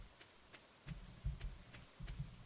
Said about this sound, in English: Thank God it's rainy